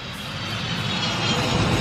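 Steady, loud engine roar of airplanes near an airfield, a continuous broadband rumble with no break.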